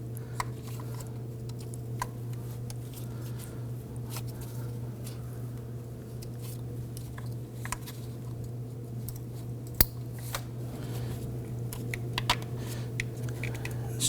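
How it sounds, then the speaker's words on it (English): Fuel injector harness connectors on a 2008-2011 Ford Focus being pressed on, giving a few sharp, small clicks over a steady low engine-bay hum, close and fairly quiet. "press them on, you're going to hear them click."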